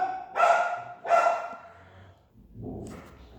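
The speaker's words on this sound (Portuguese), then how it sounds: "Ô, cachorro abençoado." A dog gives two sharp, close barks in quick succession, followed by a quieter low whine or grumble.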